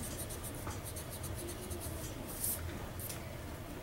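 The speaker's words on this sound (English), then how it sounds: "we want to erase the lines that we don't need" Pencil eraser rubbing across paper, a soft steady scratchy friction that runs continuously in short strokes, with a brief brighter scrape near the middle, close and quiet with no talking.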